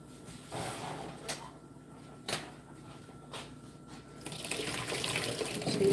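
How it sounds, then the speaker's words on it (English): Water draining from a pot of boiled sweet potatoes into a sink, a running, splashing pour that builds steadily and swells loudest toward the end, with a few brief knocks of the pot along the way. "So you strain your water out of these sweet potatoes really good, guys."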